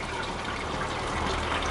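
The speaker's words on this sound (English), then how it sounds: "you pour that lemon juice into the jug" Lemon juice poured into a jug, a steady close liquid gush and trickle running evenly for nearly two seconds with no talk.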